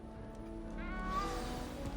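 A small cat in Hogwarts Legacy gives a soft, quiet meow midway, a single short wavering call over faint background music.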